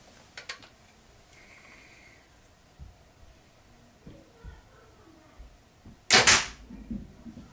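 An arrow strikes a shirt-filled bag target about 14 yards away with one sharp, loud thwack late on, after quieter clicks and handling noises, and people speak faintly.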